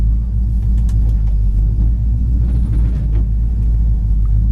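A warmed-up 1964 Pontiac GTO idles steadily with a deep, even rumble, close and loud, with no revving or talk.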